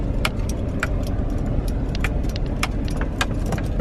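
A car rolling slowly along a rough camping track, with a steady low rumble of engine and tyres and frequent sharp jingling rattles of loose items in the cabin throughout, no talking.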